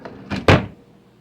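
A kitchen drawer slides open with a quick wooden rattle and a firmer knock as it stops, close and alone, while someone reaches for a towel during homemade butter making.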